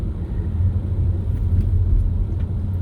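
Low, steady engine rumble of a bus or nearby road traffic heard from a vehicle on the road, continuous and fairly loud with no talking over it.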